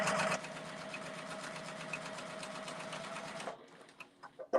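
A Juki TL18QVP Collector's Edition sewing machine runs a long 6mm basting straight stitch, a rapid steady mechanical whir for about three and a half seconds, then stops, leaving a few soft clicks.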